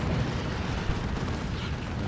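Battle wagon vehicle destroyed by lascannon fire in the strategy game Dawn of War 2, a steady roaring rumble of explosions and battle noise with one sharper burst near the middle, loud and dense throughout.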